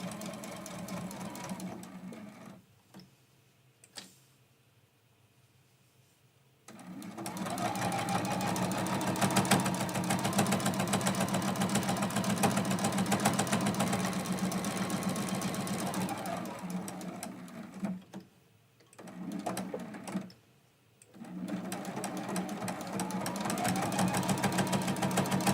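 A sewing machine stitches a quilted mug rug, running in long steady whirring bursts with brief pauses between them, while someone talks quietly at times.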